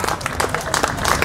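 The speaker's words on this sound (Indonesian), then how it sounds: "Berikan sorak-sorai buat Tuhan." A church congregation at an open-air revival service bursts into cheering and applause for God, a dense crowd roar of clapping that stays loud and steady throughout.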